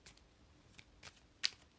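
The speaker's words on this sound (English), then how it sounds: "I will actually shuffle on the camera." A deck of cards is shuffled for a card reading, a few soft, brief riffling flicks with one sharper snap near the end, faint and close with no talk.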